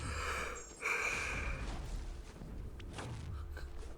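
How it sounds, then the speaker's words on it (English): A person yawns close to the microphone, giving a drawn-out, breathy vocal stretch that rises and then fades into a steady low background hum. "I don't know why I'm yawning."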